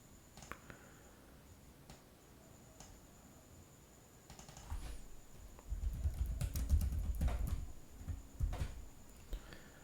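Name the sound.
typing on a computer keyboard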